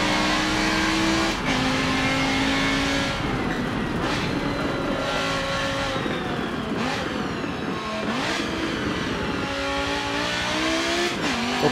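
A Ferrari race car in a racing video game revs hard and climbs through its gears in repeated rising sweeps, with a loud, steady engine note and brief dips between shifts.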